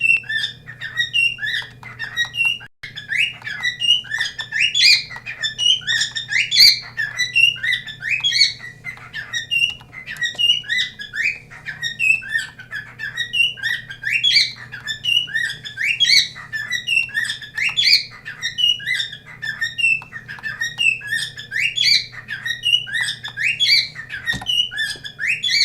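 Nearby bird keeps up a long, unbroken stream of sharp chirps and squawks in quick repeating bursts, loud and close over a faint steady low hum.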